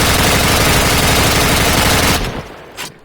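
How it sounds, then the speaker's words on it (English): Loud, sustained automatic gunfire pounds into the side of a building in Modern Warfare, a dense rapid stream of shots that stops after about two seconds, leaving a fading tail. "A couple more rounds into the side of the building"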